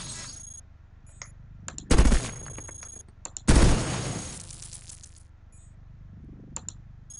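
Guns firing in the sci-fi robot game Cogmind, two loud bursts of rapid, rattling gunfire a couple of seconds apart, surrounded by short metallic clicks and chimes against a faint background hum.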